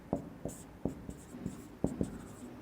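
Chalk or pen taps and scratches out quick strokes during a physics lesson, the tapping close and uneven, about ten short marks with small pauses between them.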